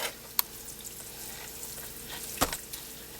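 Noodles frying in a small pan, a steady soft sizzle with two sharp clanks of a utensil against the pan, no talk.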